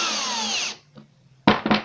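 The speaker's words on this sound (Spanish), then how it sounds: "Ahora vamos a colocar los 3 tornillos en las 3 avellanadas que hicimos con las diferentes brocas." Power drill driving a screw into a countersunk hole in wood, a loud whirring run that stops abruptly, a short pause, then two quick bursts of the motor up close.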